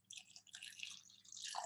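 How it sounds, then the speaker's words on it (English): Water is poured into a bowl of soaking fenugreek (hilba) seeds, a faint, light trickle and splash coming in short uneven spurts. "I'm going to add some water in there"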